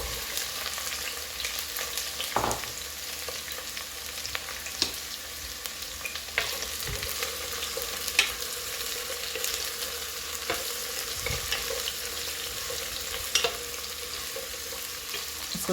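Eggplants fry in a pan with chili and garlic, giving a steady, even sizzle throughout with occasional scrapes and clinks of stirring.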